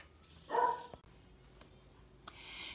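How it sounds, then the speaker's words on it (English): A dog barks once nearby, a short sharp bark followed by a faint second yip, against a quiet room background. "there's that dog again"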